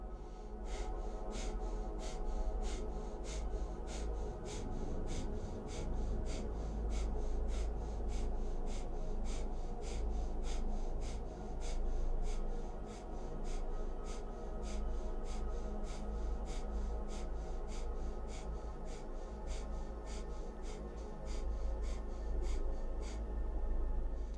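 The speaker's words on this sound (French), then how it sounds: "On respire puissamment. Respiration de feu puissante et rapide." Rapid, powerful breath of fire from a Kundalini yoga kriya: fast, evenly spaced sharp nasal exhalations pulsing in a steady rhythm throughout, close and moderately loud over a soft background.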